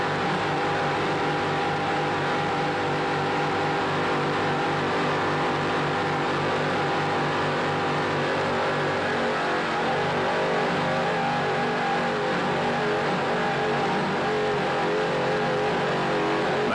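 Offshore racing powerboat engines roar at the 1994 National Offshore Championship, a loud, continuous droning throb that holds steady throughout without a break, as if heard from on board the boat.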